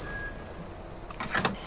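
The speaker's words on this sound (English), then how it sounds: "One of these days this bell's going to get worn out." A truck's bell rings in Euro Truck Simulator 2 at a fuel stop, a brief bright ringing burst after a quiet steady hum.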